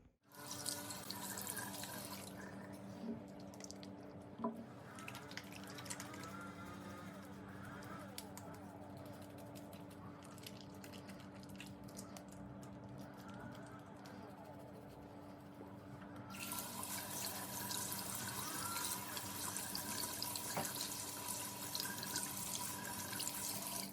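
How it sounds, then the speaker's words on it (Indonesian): Hand washing before a physical lung examination: water runs steadily from a tap for the whole stretch, growing louder and fuller in the last third as the flow strengthens, close by, with a faint voice in the background. "nanti sebelum melakukan pemeriksaan saya akan melakukan cuci tangan terlebih dahulu Pak ya"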